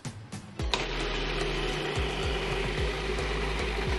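A blender whirs steadily as it purees arugula, olive oil, balsamic and smoked spice, starting after a brief pause and running loud and continuous, with a few rhythmic dips in the motor tone.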